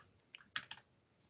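A few sharp keystrokes tap out on a computer keyboard during a command-line coding session, with three or four close, quiet clicks clustered together and no talking.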